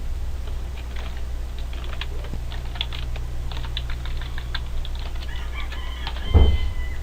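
Rapid clicking of fingers typing an account number on a computer keyboard, steady taps close by over a constant low hum, with a rooster crowing faintly in the background near the end.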